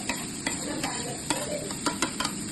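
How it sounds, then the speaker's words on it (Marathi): Grated carrot being stirred into ghee and dry fruits in a pan, with soft repeated scraping strokes of a spoon over a faint steady sizzle, close and fairly quiet. "आपण गाजरला मिक्स करून घेऊया ड्रायफ्रुट्स मध्ये आणि घी मध्ये"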